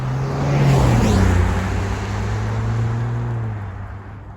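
A 2022 Range Rover Sport drives along with a steady engine hum and road noise, swelling slightly early on, then holding a smooth, loud cruise before easing off.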